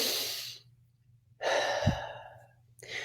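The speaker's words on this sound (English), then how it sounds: "And take a deep breath." A slow, deep breath drawn in and let out during a calming, anxiety-relief tapping exercise, close and soft, an airy inhale and then a longer exhale after a pause, with no talking.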